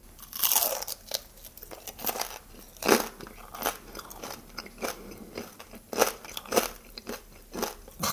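Crispy deep-fried pork belly skin (chicharrón) bitten and chewed up close, with loud crackling crunches in irregular bursts between quieter chewing.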